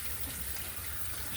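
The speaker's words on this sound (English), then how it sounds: "Get my hand washed off here." Tap water runs steadily over hands being washed at a kitchen sink, a soft continuous splashing rush with no voices, briefly and close.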